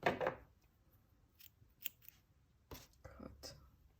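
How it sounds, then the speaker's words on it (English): Scissors snip through purple yarn during a crochet project, a sharp close cut at the start followed by a few quieter clicks and snips of the blades. "cut our purple yarn"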